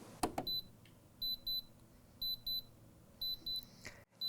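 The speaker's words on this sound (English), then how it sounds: "If you now hear a continuous signal, the machine has an error." A Bernina L 660 overlocker signals an error with a repeated electronic beep, short paired tones sounding in a regular pattern at close range after a couple of mechanical clicks.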